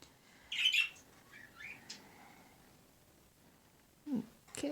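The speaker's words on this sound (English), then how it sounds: "The birds are acting up." Birds squawk and chirp in a few short, fairly loud bursts, with quiet gaps between calls and a final cluster of sharper cries at the end.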